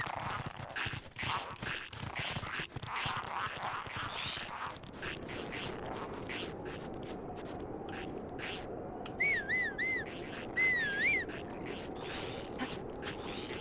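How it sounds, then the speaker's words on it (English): A player whistling in the game Death in the Wild, short wavering melodic notes in two bursts late on, set against a steady background of rustling and clopping hooves. "Oh, that's how to whistle."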